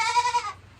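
A Nigerian Dwarf goat gives one loud, close bleat lasting about half a second, tapering off into quiet afterward.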